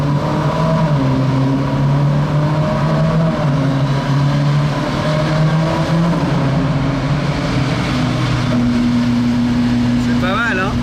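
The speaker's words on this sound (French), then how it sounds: "c'est là où on entend la magie du V8" A Ferrari Spider V8 rumbles through an open rear window while driving at night in Monaco, its deep engine note holding steady and shifting pitch throughout, with voices talking over it.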